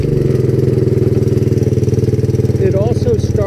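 A 1984 Honda ATC200S three-wheeler's single-cylinder engine idling close and loud, a steady fast thumping pulse with someone talking briefly over it near the end.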